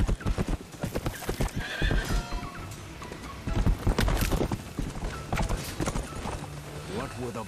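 Horses clip-clopping and whinnying in a samurai-themed video game, busy rhythmic hoofbeats mixed with loud battle noise and people talking over it.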